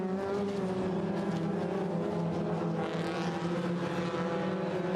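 A pack of Sports 2000 race cars climbs toward the Druids hairpin at Brands Hatch, their engines droning together as a loud, sustained, layered roar with shifting pitch.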